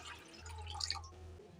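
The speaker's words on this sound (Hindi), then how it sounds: "बड़े बाउल में यहाँ हम पानी डालेंगे" Water poured into a large bowl, a short soft splashing trickle heard close and quietly, with no one speaking.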